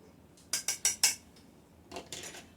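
A spatula knocking and scraping against a mixing bowl while making old-fashioned chocolate chip cookies with black walnuts: four sharp, evenly spaced clinks, a pause, then a softer, looser cluster of clatters.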